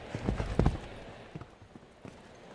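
A show jumping horse's hooves clip-clop on the arena footing during a grand prix round, with a quick cluster of thuds near the start followed by a few lighter, spaced hoofbeats.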